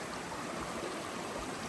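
Rattle River, a mountain stream crossed on the Appalachian Trail, rushes steadily nearby in a constant broadband wash of flowing water with no pauses and no voices.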